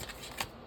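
A new deck of tarot cards is shuffled in a quick, soft riffling flutter, close and faint, with no talk.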